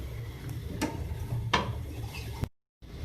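Dal being stirred and mashed in a pot on a stove flame, with a few sharp clinks of a utensil against the pot over soft scraping and rubbing, quiet and close, ending in a brief silence.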